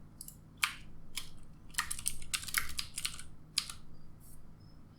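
Someone types a session name on a computer keyboard, giving close, crisp key clicks in uneven bursts: a few single taps, then a quick flurry, then a couple of isolated presses.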